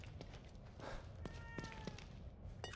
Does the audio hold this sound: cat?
yes